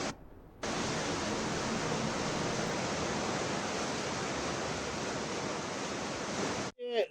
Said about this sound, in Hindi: नदी का जलस्तर इतना बढ़ चुका है कि पानी मंदिर में प्रवेश कर गया और मंदिर की सीढ़ियों पर पानी बह रहा है।